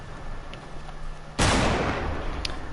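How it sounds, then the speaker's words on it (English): Loud gunfire in a shooter video game where players trade shots, marked by one sudden heavy blast that trails off into rumbling noise after a quieter stretch. "Oh, no, they're shooting each other."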